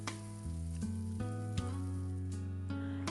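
Minced meat stir-frying in hot oil in a wok, a soft continuous sizzle under steady, tuneful background music.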